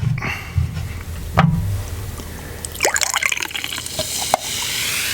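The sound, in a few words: pouring ginger ale for a shot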